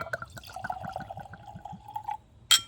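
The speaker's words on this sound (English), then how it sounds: "nice messy pour there" Larceny Barrel Proof bourbon poured into a glass, a rhythmic glugging stream that rises in pitch as the glass fills, ending with a brief bright clink.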